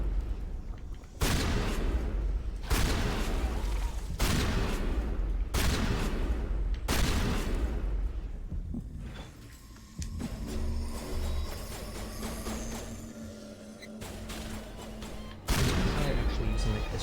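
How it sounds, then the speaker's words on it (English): Pistol shots in the Mass Effect video game, about five loud, evenly spaced cracks with a short ringing decay, then a quieter stretch of game ambience before one more shot lands near the end. "I'm actually using my pistol to see how much damage it does."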